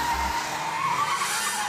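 A speeding cartoon car skids, giving a long, continuous tire screech at moderate loudness over a low engine rumble, with no voices.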